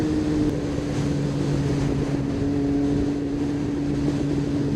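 A Yamaha FZ1 motorcycle rides along a road, its engine holding a steady, loud drone with wind rush, close and unbroken, no talking.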